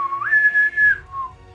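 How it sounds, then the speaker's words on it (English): A single clear whistle rises, holds a steady tone for under a second, then drops and fades, heard alone against a quiet background during a tabletop game session. "at this point, you hear a whistle"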